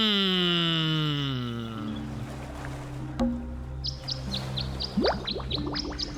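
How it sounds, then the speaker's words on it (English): Small birds chirp in the video game Tangle Tower, giving a run of quick, high, evenly spaced tweets in the second half after a low swelling tone fades out. "Birds."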